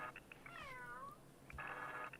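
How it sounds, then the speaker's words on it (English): A cat meow alert from a pet door app sounds once, a clear rising-and-falling electronic meow, surrounded by short soft chime-like beeps, faint and close with no talking. "My cat's meowing at me. That's not my cat, but that was the app telling me one of my cats has come indoors."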